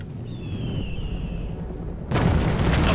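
A stone-throwing siege engine in the Rome video game, a faint whistling flight followed by a sudden loud crashing impact against a wall over steady battle rumble.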